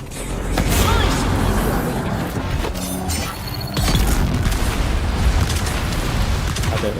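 Rocket blasts in the video game Dune: Awakening, repeated heavy booms and crashing bursts rolling on for several seconds, loud and close, with talk mixed in.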